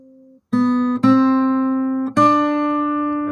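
A guitar's second string, pressed at the first fret, is plucked three times in slow succession on a fingerstyle guitar, each note ringing and decaying, close and clean after a faint held tone at the start.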